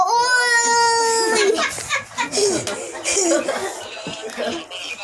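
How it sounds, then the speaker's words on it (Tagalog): A baby cries loudly and continuously, with wailing rising and falling while adults and children talk and chuckle nearby. "Uy, umiiyak na yun."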